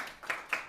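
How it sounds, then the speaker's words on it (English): Hands clap at home in a short run of two or three distinct claps, close by and moderately loud, each one a sharp bright burst. "You have lots of virtual hand claps from home."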